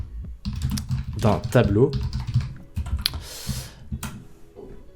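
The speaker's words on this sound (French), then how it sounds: "je vais taper déterminer les dimensions" Computer keyboard keys clatter in short bursts of clicks, mixed with someone speaking French over them, the typing continuing in scattered taps after he pauses.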